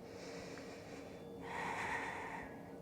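Steady breathing through a yoga pose, with a stronger, sharper breath sweeping in around midway, heard close and alone with no talk.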